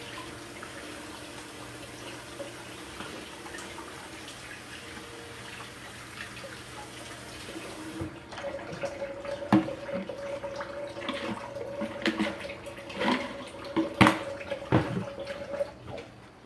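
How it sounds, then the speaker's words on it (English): A Chalk Couture silkscreen transfer is rinsed under a running tap, with steady water flow splashing and trickling at close range, louder and busier in the second half with sharp spatters as the transfer is handled beneath the stream. "wash and dry that transfer"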